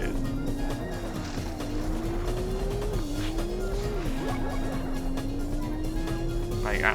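Race cars in the video game Porsche Challenge drone continuously with a steady engine whine that rises and dips through gear changes, with tire squeals along the way.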